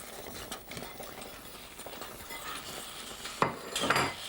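A spoon stirs cooked carrot, new potatoes and bacon in a pan, making soft scraping and clinking, with a few louder knocks of utensil on pan near the end, quiet and close, with no voices.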